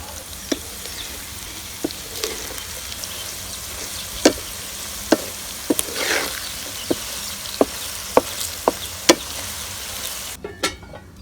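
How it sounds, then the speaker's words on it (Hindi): Okra (bhindi) frying in a pan with a soft, steady sizzle, broken by sharp clicks and taps of a spoon stirring and scraping against the pan. "अल्हम्दुलिल्लाह भिंडी जो है वो फ्राई हो गई है।"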